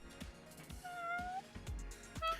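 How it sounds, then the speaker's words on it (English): A cat named Leo meowing indoors in a quiet room, a drawn-out meow with a shorter one near the end, faint and a little distant, with soft thumps around it and no talk. "Oh, more meows. Yes, Leo's back in my room."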